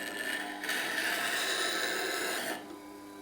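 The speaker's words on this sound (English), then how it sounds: "all I'll simply do is rotate the tool on the stone" A metal woodturning tool is rotated against a sharpening stone, giving a steady, close grinding hiss that holds evenly for a couple of seconds and then eases off.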